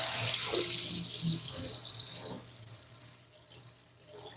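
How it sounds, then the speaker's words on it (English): Hot tap water runs steadily into a stand-mixer bowl in a home kitchen, a soft hissing splash that is loudest at first and then tapers off, with faint clatter and a brief low voice in the background. "I take the bowl out of here and I run it under hot water so we get the bowl nice and hot"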